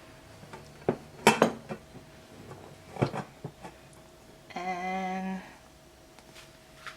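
A hot cake tin is flipped onto a large plate, giving several sharp metallic clanks and knocks, then a short ringing tone from the metal, fairly close and with no talk.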